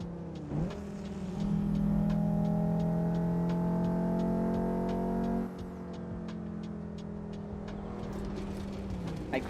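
A Volvo S60R's engine revs in a racing simulator game, holding a strong steady tone for several seconds before dropping back, with regular clicking ticks running through it.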